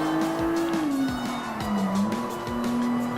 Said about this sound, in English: Take a little slide left.